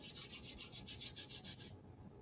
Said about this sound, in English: Rubbing your hands together.